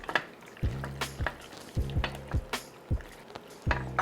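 A spoon stirring shredded cheese into lobster mac and cheese in a pan, with repeated sharp scrapes and knocks against the pan at an irregular rhythm over a soft, wet squish, close and fairly quiet.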